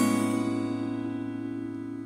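A sustained, decaying electric guitar chord from the intro riff of a song, played with the A string muted, ringing steadily and fading gently with no speech.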